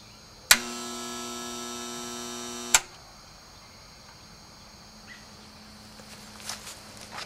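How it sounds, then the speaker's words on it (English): A seized HVAC compressor is energized: a loud tonal hum with strong harmonics starts abruptly, holds steady for about two seconds, then cuts off with a click, followed by quiet background with faint scattered ticks. "the compressor inside this unit is completely seized"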